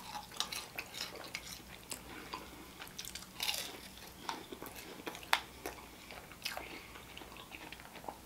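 Someone chews a crispy Chili's wrap, close crunchy bites repeating irregularly with wet chewing between, quiet and without talk.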